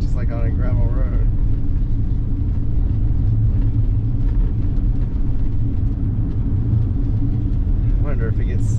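Loud, steady low rumble of a vehicle jolting over washboard ruts on a sand road, continuous and broadband throughout, with brief talk at the start and end.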